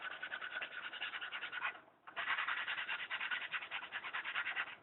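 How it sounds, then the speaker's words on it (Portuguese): A PET plastic bottle being sanded by hand, a close, steady rasping scrub in quick strokes that pauses briefly once and then carries on evenly. "Vamos a lixar a garrafa PET agora."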